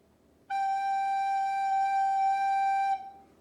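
One long, steady recorder note G held for roughly two and a half seconds, played solo with a clean, pure tone and a soft start and stop, as in a beginner classroom lesson.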